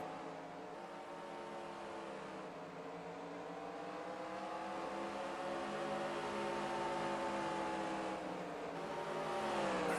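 Race cars circling the track at Bristol during a Season 43 event, a steady loud drone of engines with rising and falling pitch as cars pass, continuous with no talk.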